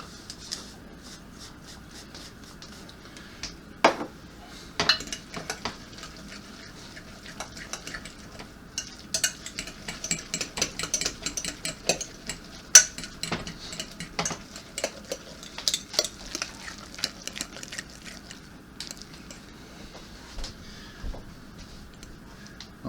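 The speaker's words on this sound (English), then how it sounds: "Stir your eggs in a little bit." Eggs stirred in a bowl with ground flax make a steady run of light, rapid clicks and taps from a utensil against the bowl, fairly quiet and continuous throughout.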